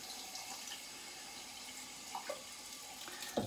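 Tap water runs steadily into a sink to rinse a cheap razor blade during a budget shave, a soft continuous splash with a few brief clinks near the end.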